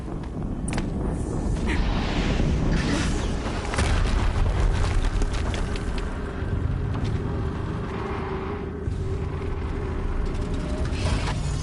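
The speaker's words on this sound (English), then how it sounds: "Explosion." Explosions and heavy rumbling from the action video game Horizon Zero Dawn on PS4, a continuous loud, dense roar with repeated booming bursts sustained throughout.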